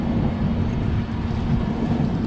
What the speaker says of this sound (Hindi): तो यहाँ से अब राजधानी एक्सेलरेट करना स्टार्ट करेगी।